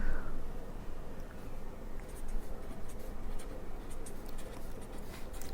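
Chalk or marker scratches across a board in a busy, continuous scribble, with sharper tapping strokes in the second half, close and alone without talk.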